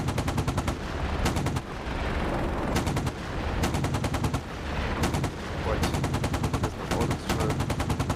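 Rapid bursts of video game gunfire, dense machine-gun style volleys repeating every second or so over a steady background of game noise, loud and close throughout.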